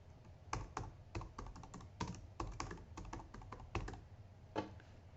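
Keystrokes on a computer keyboard as a search keyword is typed, a quick uneven run of soft clicks and taps lasting several seconds, close and fairly quiet with no talking.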